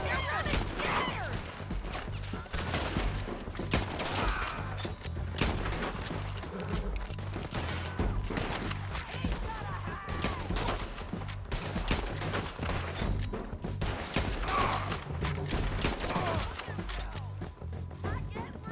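Gunfire in Red Dead Redemption 2 during a town shootout, with bursts of shots cracking repeatedly across the whole stretch, dense and steady, with voices shouting over the fighting.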